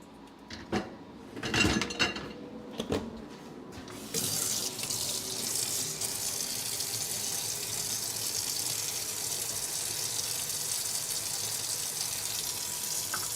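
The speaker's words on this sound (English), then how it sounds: "Jalapeno peppers. All right, gonna wash that." Jalapeno peppers rinsed under a steady running kitchen tap, a continuous close hiss of water that starts after a few seconds of brief clatter and handling noises and then runs evenly.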